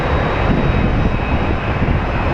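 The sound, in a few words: large airliner landing at Phoenix Sky Harbor airport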